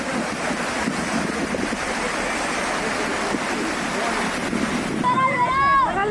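Fast-flowing floodwater in Guna, Madhya Pradesh, rushing in a steady, loud broadband roar throughout, with wind buffeting the microphone and a brief higher warble near the end.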